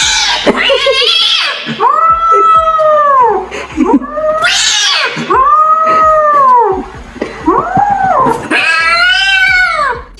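A frightened kitten meowing and yowling at a fake dog, a series of loud, drawn-out, rising and falling cries with short gaps, close and insistent.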